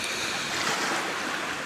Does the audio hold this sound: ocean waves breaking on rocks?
yes